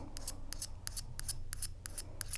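A Høvel pencil sharpener shaves a pencil with short, crisp, rasping strokes, repeated in a quick, even rhythm. The sound is quiet and close, with no voices.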